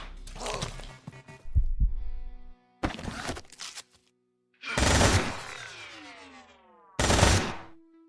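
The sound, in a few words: turret and gunfire in video game Quasimorph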